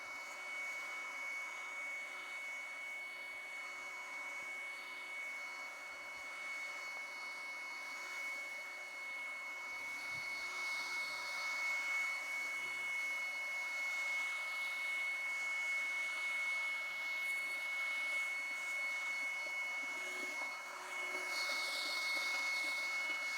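A LIGO 20V cordless brushless leaf blower runs continuously while blowing leaves, a steady high-pitched whine and rushing airflow that holds constant and slightly rises partway through, with no talking.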